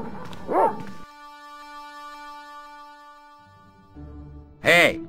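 Dogs in the Broken Sword adventure game, two short sharp yelping barks separated by quiet musical drones and a low background, fairly close.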